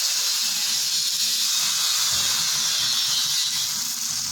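Egg paratha batter frying in a little oil in a hot pan, a steady close sizzling hiss that holds evenly without pause.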